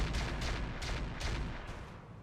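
AC2 autocannons in a mech video game firing in rapid succession at a Jaeger mech, a dense run of heavy booming shots about every third of a second over a continuous rumbling roar, loud and close.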